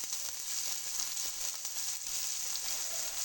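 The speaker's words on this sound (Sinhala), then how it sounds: "දැන් අපි මේකට මේ කෑල්ල කපාගත්ත මේ තක්කාලි දාගත්තා. අපි ඒ ටික පොඩ්ඩක් බැදෙන්න තියාගන්න ඕනේ." Chopped tomatoes frying in hot oil in a pan while making cheese kottu, a steady bright sizzle and crackle that holds continuously with no talking over it.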